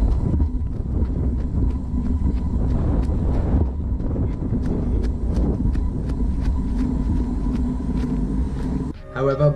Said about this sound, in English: the GoPro mic, specifically when it's on stereo mode, will pick up the motor noises from the gimbal